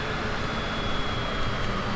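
Wing flaps move on a Bombardier Challenger 605 in Microsoft Flight Simulator, heard as a steady broadband rush of engine and airflow noise, constant and fairly loud throughout with no voice.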